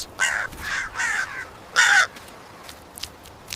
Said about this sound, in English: crow finds a meal, but danger lurks nearby